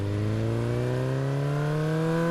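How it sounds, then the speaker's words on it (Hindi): A motorcycle carrying two riders along the road from Banda city toward Gouri Dant on the Sagar route gives a continuous, close engine drone whose pitch climbs slowly and steadily, with no talking. "मैं और मेरा दोस्त केटी हम दोनों बाइक पर सवार होकर गौरी दंत की ओर निकल जाते हैं।"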